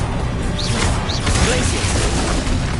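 Spell-combat effects from Hogwarts Legacy on PS5, with a Bombarda blast among dense crashing, mechanical clanks and whooshing impacts, loud and continuous throughout.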